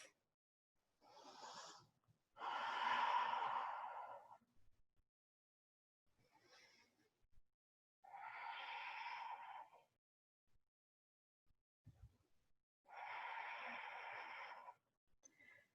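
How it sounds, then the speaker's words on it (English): Slow, deep breaths during a yoga pose come in four or five separate whooshing breaths, each a few seconds long with quiet gaps between. They are close and soft. "3 more deep breaths."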